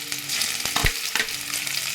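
Chopped garlic and onion fry in mustard oil in a karahi, giving a steady bright sizzle with a few soft thumps and scrapes of stirring, close and alone.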